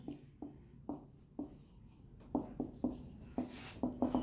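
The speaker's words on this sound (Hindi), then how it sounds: "और यहां पे लिख देते हैं एक्सप्रेस ट्रेन का डेटा।" A marker squeaks and taps across a board as someone writes out train data, making a series of short, rhythmic strokes that grow slightly louder and faster near the end.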